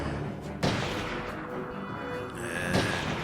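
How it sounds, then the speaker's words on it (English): Sniper rifle fire in the game Chrome: two sharp, loud shots spaced about two seconds apart over a steady, noisy background. "This sniper rifle's a bit weird in the way it actually allows you to fire"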